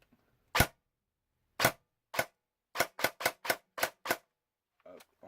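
A Kriss Vector Coyote G2 airsoft gun fires a series of sharp, isolated cracks, spaced single shots then a quicker cluster, each snap loud and dry against near silence.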